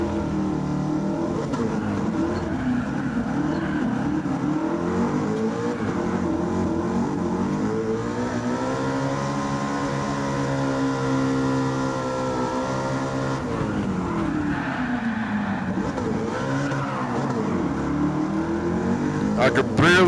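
Race car engine in the Gran Turismo 7 video game drones loudly and steadily, rising and falling in pitch as it revs through gears and accelerates out of corners, continuous throughout with no pauses.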